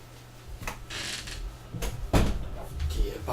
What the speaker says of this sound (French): Ok, tu peux fermer la porte.